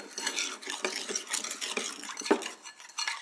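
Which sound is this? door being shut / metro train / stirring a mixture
stirring a mixture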